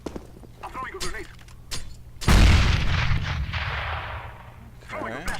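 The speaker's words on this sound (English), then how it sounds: "I'm throwing a grenade." Grenade explosion in the video game CS:GO: a single loud, close boom with a long rumbling decay, preceded by quieter game clicks and a voice talking.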